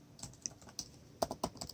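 Fast, crisp key clacks from typing on a $700 aluminum gaming laptop with a GTX 1050 Ti, irregular taps with a few sharper, louder strikes, close and fairly quiet with no voices.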